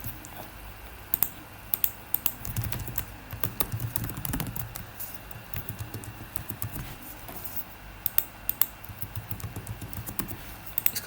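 Computer keyboard keys are tapped to type a name into a React web form, bursts of light clicks with short pauses between them over a faint steady hum, no voice present.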